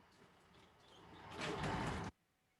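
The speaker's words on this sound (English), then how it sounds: "I want the one with the door opening or closing" Door opening or closing as a sound effect, a soft sliding rumble that swells over about a second and a half, then cuts off abruptly, quiet and close with no voices.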